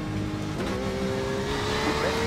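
Porsche 911 RSR race car engine in the iRacing simulator, a loud steady high-revving drone with a rising whine as another car draws alongside and goes by close.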